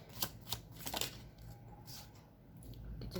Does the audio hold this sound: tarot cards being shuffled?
yes